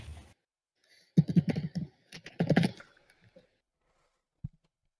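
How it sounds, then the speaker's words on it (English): Typing on a computer keyboard, caught by a headset microphone during a multiplayer Falcon BMS flight-simulator session: two short bursts of rapid clicking, close and moderately loud, with quiet gaps in between. "You just hear you typing over the mic"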